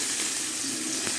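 Chopped onion sizzles and crackles steadily as it fries in hot oil in a pan, a close, even hiss with no pauses and no talking.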